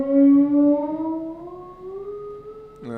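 Slide guitar played smoothly without pausing on each fret, a single sustained note gliding steadily upward in pitch over about three seconds, rich in harmonics, ending with a brief pluck of another string.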